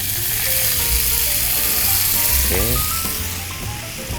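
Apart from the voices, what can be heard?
water added to hot pan for nasi rendang, sizzling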